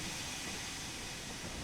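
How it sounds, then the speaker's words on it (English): A freight train rolls past in Train Sim World 2 on a wintry line, giving a steady hissing rush and rumble of rail noise, faint and continuous with no distinct clacks. "we're passing this train here"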